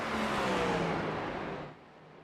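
Race cars roar past in a simulated iRacing session at Martinsville Speedway, a loud, steady engine drone with a rising whine that fades slightly near the end, no talk.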